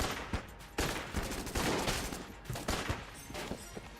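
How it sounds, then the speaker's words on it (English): Winchester rifle fire in the game Enter the Gungeon cracks out in a rapid string of sharp, loud shots, closely spaced and overlapping into a dense volley, with no talking. "I think we just use the Winchester rifle."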